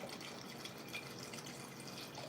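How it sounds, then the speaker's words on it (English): Water poured into a cooking pot while preparing Cornish hen for dinner, giving a faint, steady splashing trickle that runs evenly without breaks and with no talking. "I'm gonna add some water in there already"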